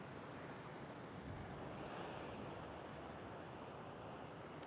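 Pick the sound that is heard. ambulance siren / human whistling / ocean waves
ocean waves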